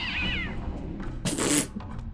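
A cat in the Blood Omen 2 video game gives a wavering meow, then a louder, harsher caterwaul-like yowl after a short pause, with no talking.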